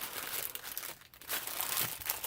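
Plastic bags, sandwich-sized and other cheap packs, are handled close up, giving a continuous crinkling and rustling that dips briefly before picking up again.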